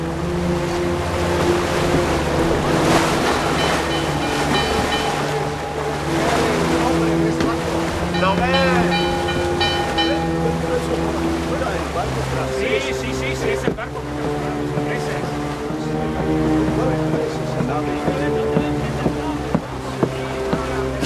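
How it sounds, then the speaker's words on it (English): Wind rises over the sea aboard a sailing ship, a steady rush of wind and water under a low continuous rumble with occasional creaks and knocks, and voices talk intermittently. "The wind's getting up again."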